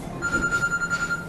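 A phone rings with a brief, steady electronic tone pulsing rapidly for about a second, moderately loud indoors against faint room noise.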